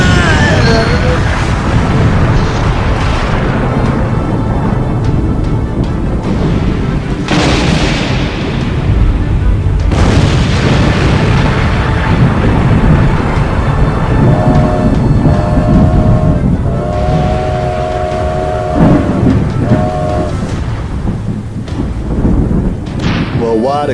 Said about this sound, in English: The biggest storm to hit Tanpost in 150 years.